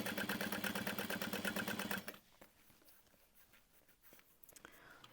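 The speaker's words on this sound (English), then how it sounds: "And now we can top stitch that at 1/8 of an inch." A domestic sewing machine runs steadily for about two seconds, top stitching a handbag at one-eighth inch, its rapid mechanical chatter stopping abruptly and leaving quiet handling noises.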